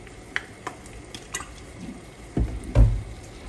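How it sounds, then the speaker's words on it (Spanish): Tomatoes, onion and serrano chiles fry in a little oil in a pan, a soft steady sizzle broken by a few sharp clicks and clattering stirs near the end. "Lo que necesito es que empiece a freírse estos jitomates, que empiecen a sacar sus jugos"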